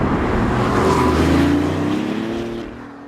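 A BMW i8 sports car drives past with a smooth, steady engine and road hum that swells midway and then fades slightly as it moves on, with no voices.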